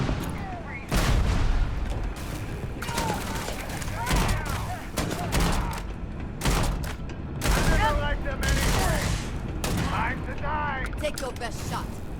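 Intense gun battle in Starfield, with bursts of gunfire and booming shots crowding together over several seconds, loud and busy, with voices talking over the fighting.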